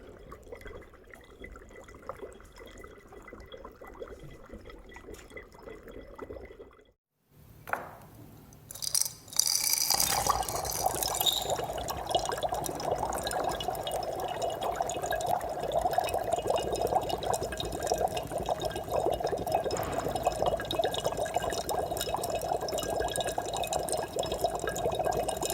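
Dry ice bubbling in water, a steady close bubbling and churning roar that surges in after a short quiet gap and then carries on loud and unbroken.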